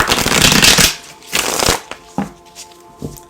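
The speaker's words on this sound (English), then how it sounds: "I wanted to make sure this is really shuffled" A deck of tarot cards being shuffled, a loud riffling flutter of cards that comes in two bursts and then settles into a few lighter taps and snaps as the deck is squared, close up with no voices.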